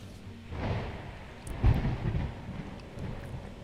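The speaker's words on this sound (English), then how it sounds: "It's a fucking storm." A thunderstorm rumbles in the naval battle game Ultimate Admiral Dreadnoughts, with low rolling thunder and a heavier boom partway through over a steady wash of rain and wind.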